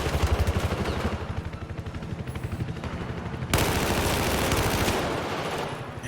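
Gunshots in Battlefield 4 during an 8v8 PC match, steady rhythmic automatic fire that turns into a louder, denser volley midway, with clattering bursts continuing close up and no talk over it.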